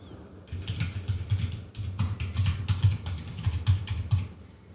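Close, steady typing on a computer keyboard, with quick bursts of rapid key clicks that continue for several seconds with only brief pauses.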